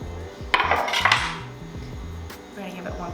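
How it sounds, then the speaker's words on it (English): Beans with freshly chopped cilantro stirred in a cooking pot for Costa Rican gallo pinto, a spoon scraping and clinking against the pot in a quick burst, then quieter settling sounds, with speech-like voices faintly underneath. "We're gonna give it one quick stir again."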